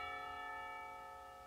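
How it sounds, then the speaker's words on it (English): A school lunch bell chimes in the Katawa Shoujo visual novel, a single clear ringing tone with bright harmonics that sustains and slowly fades, alone with no talk. "The lunch bell rings"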